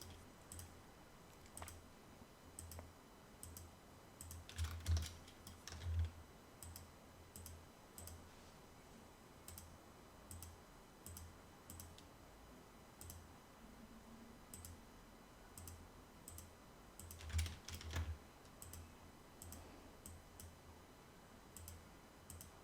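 Computer keyboard keys, including Shift and Control, are pressed while modelling an arched window in 3D software: sparse, quiet clicks tap at irregular intervals, with two denser clusters of louder keystrokes.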